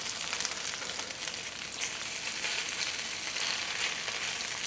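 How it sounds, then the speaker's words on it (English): Coleslaw fritters frying in a covered skillet give off a steady, dense sizzle and crackle that holds evenly at moderate loudness throughout, with no voices over it. "cover the skillet and let the fritters cook until they turn richly brown on the bottom"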